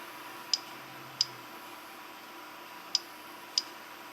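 Keystrokes on a computer keyboard entering commands: four isolated, sharp clicks spaced unevenly over a soft background hiss, fairly quiet and close.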